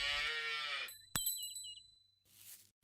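A calf in a Hindi story gives a short, close moo with a harmonic low tone, followed by a bright bell-like ding and a brief rustle, no talking.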